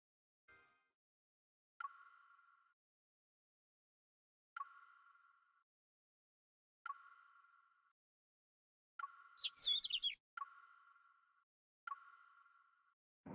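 A bird in the video game Love and Deepspace gives repeated short electronic-sounding chirps at steady intervals, with one brief burst of busier twittering near the end, quiet and alone.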